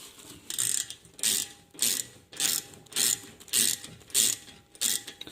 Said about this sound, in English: I've just tightened that bolt in